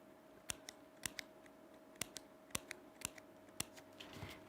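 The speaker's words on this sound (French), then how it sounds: "je viens faire des petites encoches dans ma plume" Scissors snipping small notches into a paper feather, a series of crisp, close clicks and snips in uneven bursts, alone with no talking.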